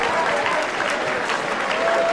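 Applause from the crowd at a ladies' world championship darts final, a dense, steady clapping that holds at full loudness throughout with faint cheering mixed in.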